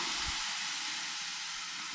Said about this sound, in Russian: О, пар пошел.